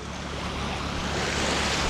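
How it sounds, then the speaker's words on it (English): Big waves surge onto a beach in a loud, continuous wash of surf with a steady roar, mixed with some wind. "I didn't realise I was going to get hit by big waves that were coming in"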